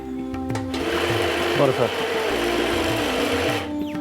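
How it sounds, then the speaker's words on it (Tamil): Kitchen mixer grinder whirring steadily as it grinds oil-roasted rasam masala with coconut into a chutney-like paste, a continuous motor drone with someone talking over it. "இதை அரைக்கணும். இது நல்லா குளக்குளன்னு அரைக்கலாம். சட்னி மாரி அரைச்சிடும்."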